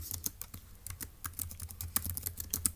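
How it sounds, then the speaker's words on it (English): Notes being typed on a computer keyboard for a Turing Machine logic puzzle, a quiet, close run of rapid uneven key clicks with a low background hum and no talk. "let's go ahead and type that up in our notes in section D"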